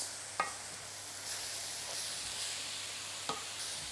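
Meat sauce browning in a pan gives a soft, steady sizzle with a couple of faint clinks from stirring, close and quiet, with no voices.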